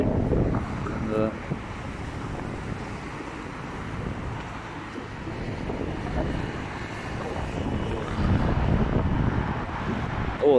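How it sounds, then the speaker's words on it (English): Strong wind buffets the microphone in a constant heavy roar outdoors, rising and falling across the whole stretch without any talking. "oh, that wind is strong."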